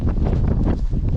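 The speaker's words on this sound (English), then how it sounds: "Wind, check." Wind gusting across a snowy, icy winter course on the Montane Winter Spine Race, a loud rough buffeting rush against the microphone, steady and close with no speech.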